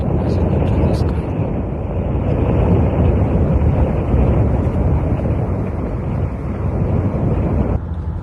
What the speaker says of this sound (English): The twister was accompanied with gust winds peaking 80 kilometers per hour.